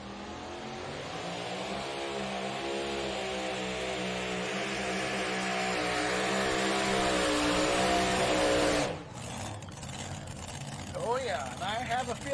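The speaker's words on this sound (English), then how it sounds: "the adrenaline of that supercharged alcohol racing engine up front" A supercharged alcohol-burning racing engine in a two-wheel-drive pulling truck at the Henry County Fair in Napoleon, Ohio roars at sustained high revs for about nine seconds, then cuts off sharply, leaving quieter crowd and ambient noise.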